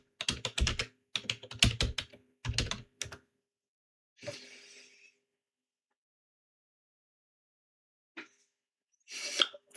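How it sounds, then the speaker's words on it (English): Someone typing a URL on a computer keyboard, with several quick bursts of close, crisp keystrokes followed by a pause and a couple of later isolated clatters. "just type in the URL"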